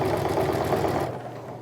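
A sewing machine stitches a bag seam, running loud and close with a fast, even mechanical whir that slows and fades near the end.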